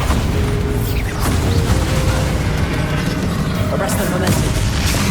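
Bombarda spell blasts in the Hogwarts Legacy video game, with dense, loud, continuous combat rumble and booming bursts filling the scene.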